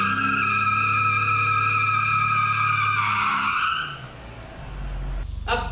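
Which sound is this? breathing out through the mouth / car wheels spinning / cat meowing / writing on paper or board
car wheels spinning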